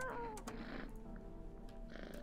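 A cat meows in the video game No, I'm not a Human. There is one short, falling mew at the start, heard over a low hum and faint game ambience, with no talk.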